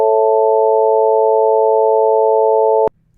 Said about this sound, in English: we can go hear the A major chord